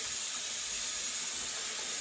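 Running water from a sink tap pours over a Thanksgiving turkey being washed, a steady close hiss of spray without pauses or speech.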